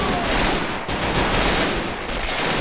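Sustained, dense gunfire from the World War II strategy game Men of War: Assault Squad 2, set in the 1945 German defense of Foy during the Battle of the Bulge; loud overlapping volleys with no clear gaps, no talk.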